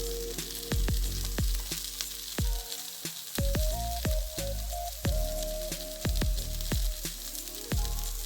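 Garlic sizzles in a hot pan with peppers and onions, a steady crackling fry broken by sharp clicks and taps of a utensil stirring, close and fairly loud.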